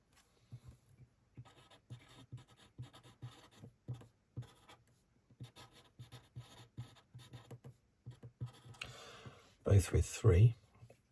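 A pen scratches across paper while drawing the Imola F1 circuit of the Emilia Romagna Grand Prix, with close, dry strokes in short irregular bursts, a quiet voice underneath, and a louder, denser scribble near the end.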